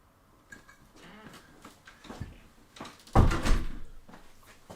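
A child bangs and rattles at a door she cannot get open, a series of muffled knocks and thuds that build to a louder jolt near the end, heard from indoors.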